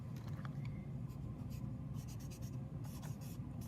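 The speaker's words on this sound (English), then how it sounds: "I'm just coloring it in quickly" A pencil colours in a drawing with continuous quick scratchy strokes on paper, faint and close, running steadily throughout.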